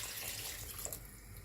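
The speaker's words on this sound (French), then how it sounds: "je rajoute un peu d'eau" Water added to Kabyle couscous while it cooks: a faint, soft hiss of pouring with a small splash partway through.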